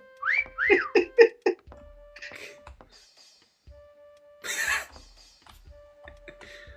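A person whistles a short series of quick rising notes close by, then a steady tone and a breathy burst, with faint voices and game sounds around it.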